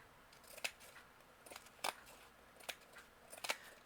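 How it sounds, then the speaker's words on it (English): Scissors snip through junk journal embellishment material in a series of quiet, separate cuts spaced about a second apart, close by, with no talk. "I'm going to cut some of this off because we don't need it"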